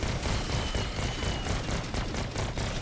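Rapid automatic gunfire rattles in BO6 Zombies as zombies are shot down, a fast, dense burst of shots running continuously at close range with no talk.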